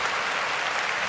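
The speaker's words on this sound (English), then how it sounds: "Give Peachy a round of applause." A studio audience at a fantasy football recap show breaks into a brief, dense burst of applause, many hands clapping at once at a steady moderate level.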